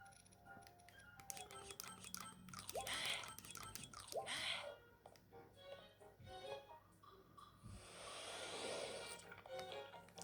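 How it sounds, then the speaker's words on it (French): A character in a Zelda game chews food with wet, squishy bites and crunchy smacks repeating over several seconds, up close, with game sounds and a little talk mixed in. "Oui, là il la mâche"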